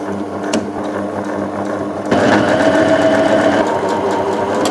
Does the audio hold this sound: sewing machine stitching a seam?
yes